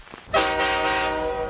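A train horn blows at a train station, a loud, steady harmonic blast that starts abruptly and holds without a break.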